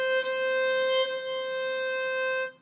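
A violin holds one bowed note, C natural on the A string, clear and steady with a slight bump in the bowing near the start, sustaining alone for about two and a half seconds before stopping; no talking.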